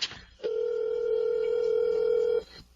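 A steady single telephone dial tone holds for about two seconds while a cellphone call is placed, with a short click before it starts and a brief faint tail of room noise after it cuts off.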